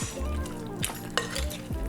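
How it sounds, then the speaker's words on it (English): Raw shrimp being mixed in a bowl with a utensil, wet squelching strokes with a few small clinks against the bowl. Tonal music plays underneath throughout. "And then we're just going to go ahead and give the shrimp a little mix"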